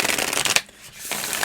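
Oracle cards from a Cosmic Magic Oracle deck are riffled in a quick, dense burst, a brief pause, then a second riffle, close and crisp.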